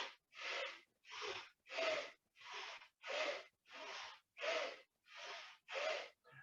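Rhythmic breathing during a spinal flex exercise, with about ten evenly spaced, breathy inhales and exhales alternating steadily, close and clear, with no talking.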